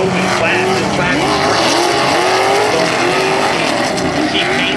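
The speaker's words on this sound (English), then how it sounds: "it's so cool to start the day off with four-wheel drive trucks. They get up and go" Four-wheel drive off-road race trucks in an open class at a motorpark roar loudly and continuously, engines revving and shifting as they launch from the green flag, with a commentator talking over the racing noise.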